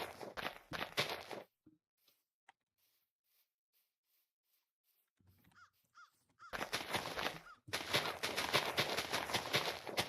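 Crows caw outdoors in loud bursts at the start and again near the end, separated by a quiet stretch with a few faint calls and light footsteps.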